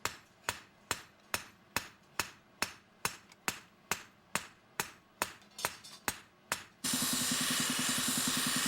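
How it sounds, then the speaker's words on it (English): A hammer pounds both sides of a forged chef's knife into shape, striking in a steady run of about fifteen sharp, loud blows, then giving way to a continuous roaring hiss. "he pounds both sides of the knife to create the correct shape"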